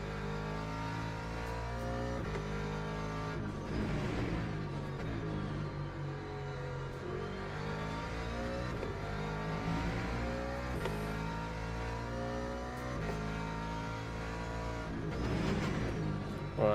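Ferrari race car in Le Mans Ultimate, engine droning steadily at high revs with shifting pitch as it accelerates and changes gear, continuous and up close with no talk.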